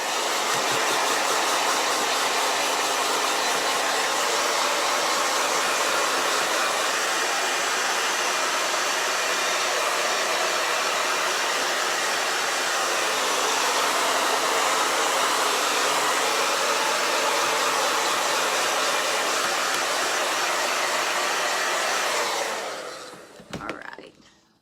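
Steady, loud airy roar of a heat dryer drying Chalk Couture chalk paste on a crafted sign, running unbroken for over twenty seconds before shutting off with brief clunks.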